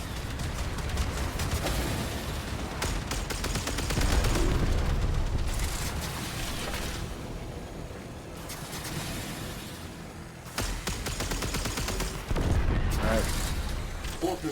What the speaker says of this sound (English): Arming torpedoes, locking onto their signature, firing.